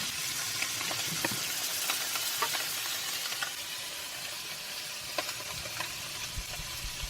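Tofu sizzles and fries steadily in a pan, a continuous crackling hiss with scattered sharper pops from start to finish, fairly close and without talk.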